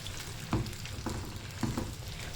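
Chopped carrot, lemon, green chilli and radish fry in hot oil over a low-to-medium flame for pickle, with a steady sizzle broken by several soft thuds of stirring in the pan, no voices.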